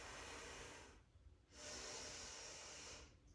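Deep breathing during a yoga pose: a long, loud, airy exhale, a short pause, then another sustained breath close to the microphone.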